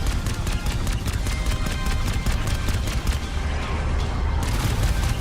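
In the Halo video game, dense rapid gunfire rattles without a break, mixed with bursts and booms in a loud, busy firefight.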